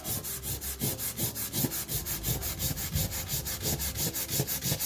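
Blue crayons rub back and forth on paper in a drawing, a rapid, even scratchy rhythm of strokes repeating steadily and close up, with no talking.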